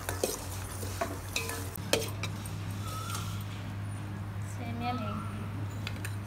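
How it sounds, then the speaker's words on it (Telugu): Vermicelli roasts in a pan for a palm fruit payasam, a spoon scraping and stirring in sharp clicks over a soft, steady sizzle. "సేమియాలు ఇలా వేపుకోవాలి రాజీ, దోరగా వేపుకోవాలి."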